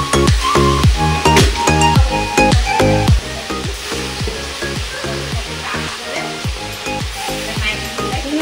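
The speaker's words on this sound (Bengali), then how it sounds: "রান্না বসে গেছে, মাছ ভাজা হচ্ছে।" Fish fry in a pan of hot oil, giving off a steady, fairly loud sizzle with repeated clattering and scraping over it, and no one speaks.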